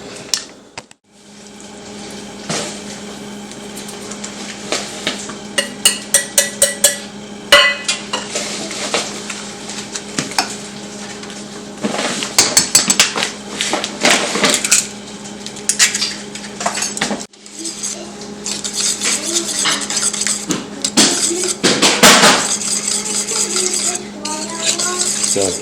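A utensil clatters and scrapes against a bowl as keto cake batter is mixed with eggs and sweetener. The taps are loud and close and come in irregular bursts, with pauses between them.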